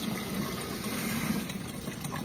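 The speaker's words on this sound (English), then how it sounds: "this one's filling up this one, which is then overflowing into this" Water gushes steadily as it fills one watering pot and overflows into another, a continuous close splashing flow with no one talking.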